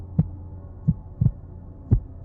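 A heartbeat sound effect thumps in a low, steady rhythm of paired beats over a faint hum, loud and close with no voices.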